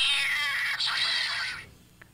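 A cat's drawn-out, wavering screech, loud and close, lasting over a second before it cuts off and fades into quiet.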